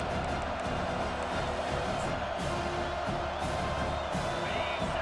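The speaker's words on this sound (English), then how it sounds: "Here comes this home crowd as the defense tries to get off the field on 3rd down." A home stadium crowd in the football video game EA Sports College Football 25 roars on third down, a dense, continuous wall of cheering and whooping with faint commentary beneath.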